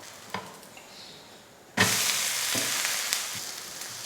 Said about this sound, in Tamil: இப்போ தோசையை திருப்பி போட்டுக்கலாம்.